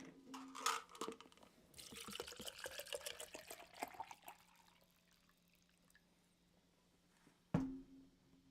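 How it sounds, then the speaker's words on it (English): A drink is poured into a glass, a close, soft liquid trickle and splash that runs for several seconds and then fades. A single louder clunk follows, likely the container being set down. "I'm pouring myself a drink."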